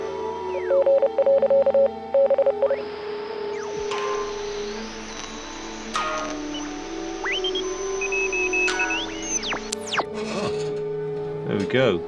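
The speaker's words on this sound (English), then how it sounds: "Entertainer interspersed with Morse code." A radio in Oxenfree II crackles with a short run of Morse beeps early on, then drifts into hissing static laced with warbling tuning tones and the faint ragtime strains of The Entertainer.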